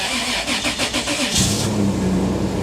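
A Toyota SUV engine cranks with a rapid rhythmic churn for over a second, then catches and settles into a loud, steady idle close by.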